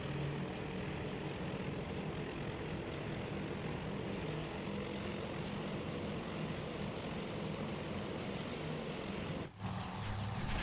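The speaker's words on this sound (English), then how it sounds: "Oh no, the torpedo bombers!" Propeller-driven torpedo bombers drone in a steady, loud engine roar during a carrier strike in Task Force Admiral, sustained throughout with a brief dip near the end.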